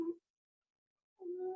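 A pet cat meows indoors twice, in two short, tonal calls separated by about a second of silence, close by and moderately loud.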